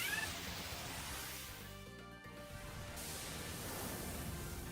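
A cat meows in the video game Demonbane, one drawn-out mewing call that sits over a loud, dense wash of game music and ambience.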